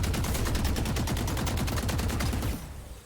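Sustained rapid automatic gunfire pours into a barrier in the video game Deadlock, a dense, loud, even stream of shots lasting several seconds before cutting off and leaving a brief fading tail.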